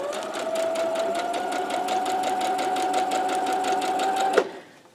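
Home sewing machine stitching pieces of a quilt block, a steady close whirring hum with a fast rhythmic needle clatter running for about four seconds before stopping abruptly.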